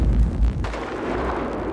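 A police bomb-squad water cannon firing at a suspicious package near a vacant Edmonton office tower, heard as a loud, deep boom that decays into a sustained roaring wash.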